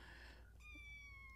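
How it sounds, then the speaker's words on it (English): A kitten mews for attention, a single drawn-out, high, steady cry that rises in clearly and holds near and distinct over a low background hum. "If you hear more mewing and crying, it's an unloved kitten demanding attention."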